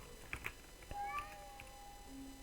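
A cat meows a couple of times in a French Minecraft game mod, short synthetic-sounding calls over a steady low background hum, with a faint tonal whine trailing after.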